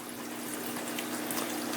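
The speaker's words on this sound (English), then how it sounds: "it will siphon the water out through this drain pipe" Water gurgles and drains steadily through a bell siphon and drain pipe in an aquaponics grow bed, a continuous close rushing flow with no pauses.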